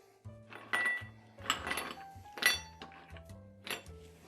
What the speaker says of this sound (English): So we'll get started with some ice in our glass.